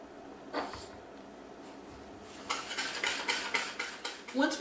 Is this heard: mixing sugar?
yes